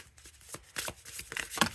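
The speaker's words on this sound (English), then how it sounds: "For the overhand shuffle." Matte-finish oracle cards are shuffled overhand in quick, uneven bursts of soft papery riffling and slaps, close up, with brief pauses between passes and no talking.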